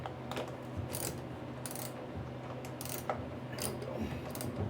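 A wrench works loose a bearing on a 1959 MotoMower Shark5, making a string of faint, irregular metallic clicks and ratcheting ticks over a low hum from the shop.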